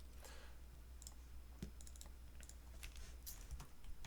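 Fingers typing on a computer keyboard, a loose run of light clicks and taps at an irregular pace, fairly close and quiet, with no talking over them.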